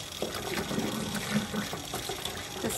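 Cold tap water gushes steadily over cooked rice noodles being rinsed and strained at home, a loud continuous splashing pour with no talking.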